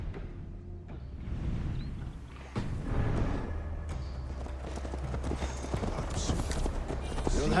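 Horse hooves clip-clopping at a steady ride pace in Assassin's Creed Valhalla, close and clear, with creaking tack and background ambience, and voices talking intermittently over the hoofbeats.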